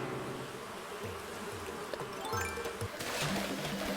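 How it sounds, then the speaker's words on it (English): Wasps buzzing in Animal Crossing: New Horizons, a steady insect drone running throughout under light game chimes and effects, with no talk. "wasps are really hard to deal with in this game"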